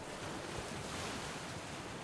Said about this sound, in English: it's just ocean sounds